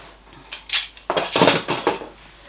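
Metal butter knives clink and clatter together in a few short, bright bursts, close by and with no talk.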